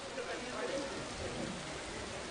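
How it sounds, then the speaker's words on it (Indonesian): Steady rain pours across a football stadium, a dense even hiss with no breaks. It plays faint and continuous under a distant murmur of voices. "karena memang saat ini hujan terus mengguyur stadion 23 Januari."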